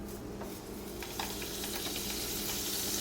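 Butter sizzles in a hot crepe pan, a faint, steady hiss with a few soft crackles and light scraping, growing slightly louder toward the end.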